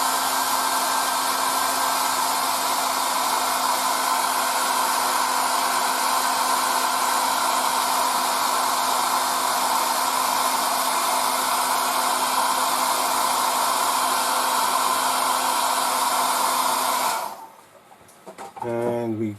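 A hair dryer blows steadily on the freshly painted interior of a 1:48 Hellcat Mk.I model, a loud, even whirring hiss lasting most of the time before it cuts off abruptly, followed by faint handling noises.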